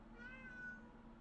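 A cat gives a single short meow, faint and somewhat distant, over a low background hum, with no one talking.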